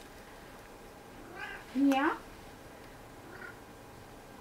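A cat gives a short meow up close, with a fainter mew before and after, while a person's voice speaks briefly nearby.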